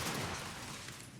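Gunfire in the Starfield video game rolls out as a dense, continuous rumbling burst of shots and blasts, loud at first and slowly easing.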